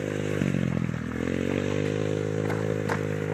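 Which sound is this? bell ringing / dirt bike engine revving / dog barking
dirt bike engine revving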